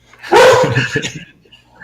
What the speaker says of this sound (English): That sounds like a serious dog you have.